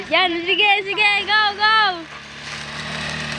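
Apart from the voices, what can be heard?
mini grass cutter running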